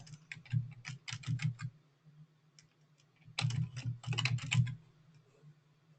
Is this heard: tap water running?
no